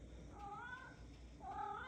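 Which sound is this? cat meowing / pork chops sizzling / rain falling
cat meowing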